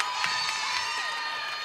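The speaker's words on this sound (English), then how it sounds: "These few fans have huddled around it and starting to scream" Fans at a Georgetown high school girls' volleyball match against East View scream and cheer in the gym, a steady, dense crowd roar with high-pitched shrieks continuing throughout.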